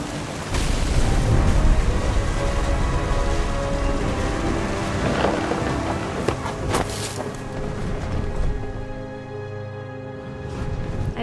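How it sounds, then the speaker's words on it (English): Heavy rain and a rumbling thunderstorm in the game What Remains of Edith Finch, a steady loud downpour with deep thunder rolls and booms, fading slightly toward the end, with no voices. "The thunder sounded much too close and full of angry power"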